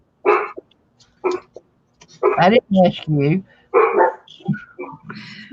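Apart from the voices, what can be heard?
dogs barking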